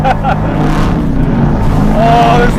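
A roaring 450-horsepower car on studded tires swings around on a test track, engine revving hard and loud, with a voice breaking in over the noise.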